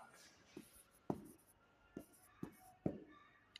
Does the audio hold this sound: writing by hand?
yes